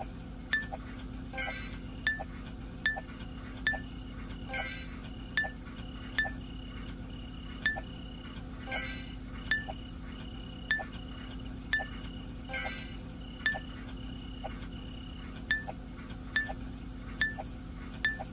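Glass clinks at a simulated recycling center in a video game, with crisp, evenly spaced taps ringing out roughly once a second over a steady background drone. No one speaks.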